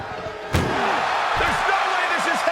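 A door slammed shut during a wrestling match, one sharp loud bang, followed by an excited commentator talking over the crowd noise.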